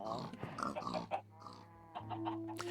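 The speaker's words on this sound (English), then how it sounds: "I think the pigs are cute" Minecraft pigs grunt and oink in a short run of nasal snorts, close and fairly loud, with game sounds around them and no one speaking over them.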